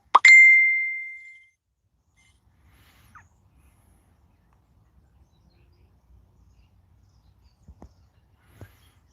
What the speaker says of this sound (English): And sorry about the pinging